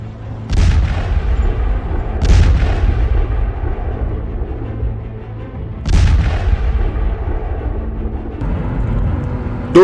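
Russian guided aerial bombs explode in Sloviansk, Donetsk region, Ukraine, with four heavy booms, each a sharp blast trailing into a long rumble, spaced a few seconds apart over low background noise.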